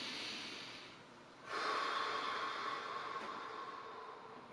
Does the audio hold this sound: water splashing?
no